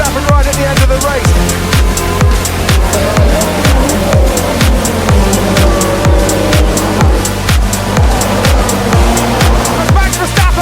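Formula 1 cars racing wheel to wheel, Max Verstappen and Lewis Hamilton: loud, continuous high engine whine with rapid repeated gear-shift sweeps and rising and falling pitch, filling the whole stretch at close range.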